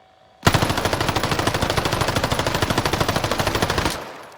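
MP40 submachine gun in a video game firing one sustained, loud, close automatic burst at a wall, with rapid evenly spaced shots running for about three and a half seconds before cutting off.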